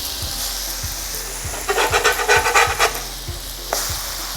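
Eggplant (brinjal) slices sizzle in a frying pan with a steady crackle and soft regular ticks. Partway through, a spoon flips them with a short burst of scraping and rattling before the frying settles back.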